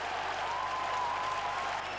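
A football crowd at an FA Cup fourth-round tie between Hednesford Town and Middlesbrough applauds a Middlesbrough equaliser, with dense, steady clapping and cheering filling the stadium for the whole moment.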